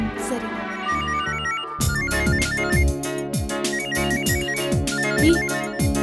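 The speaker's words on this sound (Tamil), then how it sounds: "ஏய், வெங்கடேஷ் தாண்டி கால் பண்றாரு" A phone ringtone for an incoming call from Venkatesh rings out loud and close: a bright synthetic melody with a repeating rhythmic pattern that plays on for several seconds.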